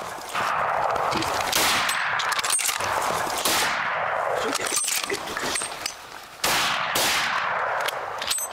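Hunting rifle shots fired at big game in Zimbabwe, several loud, sharp cracks at irregular intervals, each trailing off in a long outdoor echo.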